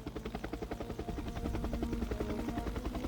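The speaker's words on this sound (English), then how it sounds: "There's the chopper." Helicopter flying in within the video game Jagged Alliance 2, rotor chop beating steadily and growing louder and fuller as it approaches, alone.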